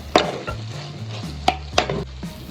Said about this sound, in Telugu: దీనిని ఉడుకుతున్న గ్రేవీలో వేసి కలపాలి.